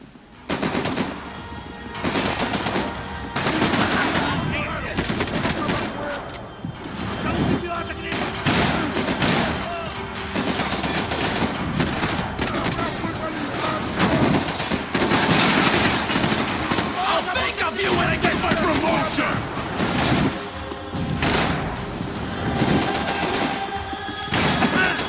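Sustained gunfire in Max Payne 3, loud rapid bursts of shots and automatic fire almost continuous throughout, up close, with voices talking at times.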